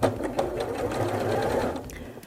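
A sewing machine sews a short backstitch on a bath towel, a close, steady mechanical whirring run of about two seconds with no talk.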